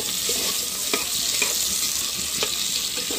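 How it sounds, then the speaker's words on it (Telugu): Tomatoes and green chilies frying in a pan, a steady bright sizzle with several scraping stirs from a utensil breaking through at irregular intervals, close and continuous. "టమాటాలు పచ్చిమిరకాయలు కూడా వేసుకొని దిప్పుకుందాం"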